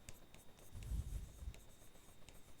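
Faint scratchy strokes of writing on a board during a teaching session, a soft scraping burst in the middle with light ticks around it, no speech.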